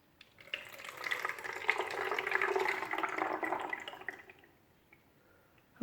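Water poured into a container of gravel runs straight through with a steady trickling, splashing rush lasting about four seconds, fairly close and moderate in level, then tapering to quiet.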